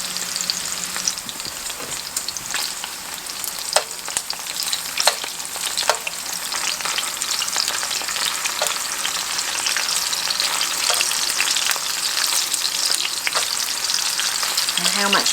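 Hot dogs fry in a pan for kraut and weenies, a steady, close sizzle with occasional crackles and pops, continuous throughout with no talking.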